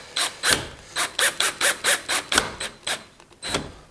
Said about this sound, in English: what I need to do actually is put these screws in better